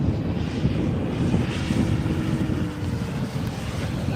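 A radio-controlled model airplane drones along in flight, its motor a distant, steady buzz partly smeared by gusty wind rumble on the microphone.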